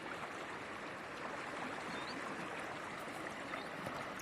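Narmada river water flowing at Omkareshwar, a steady broadband rush without breaks, even and continuous from start to finish with no voices.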